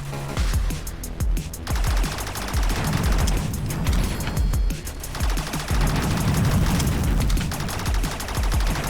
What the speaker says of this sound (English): Jumbotron's shooting at us again now